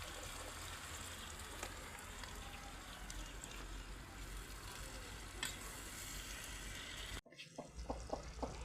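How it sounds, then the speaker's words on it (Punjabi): Potatoes frying with onions in a pan, a dense steady sizzle close up that cuts off abruptly near the end, followed by a few scattered clinks and crackles. "ਬਸ ਹੁਣ ਪਾ ਰਹੇ ਨੇ ਬੇਗਮ ਆਲੂ।"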